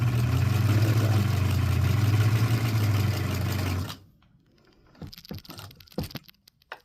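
A sewing machine stitches a teabag bookmark in a steady, humming run for about four seconds, then stops, followed by scattered clicks and handling of fabric and tools nearby.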